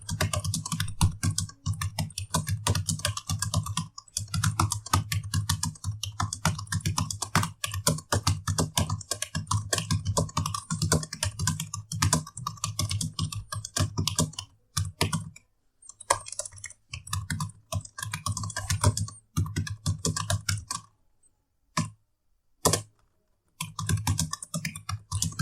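Rapid typing on a computer keyboard during an online multiplayer typing race, dense continuous close key clatter with a few brief pauses near the end.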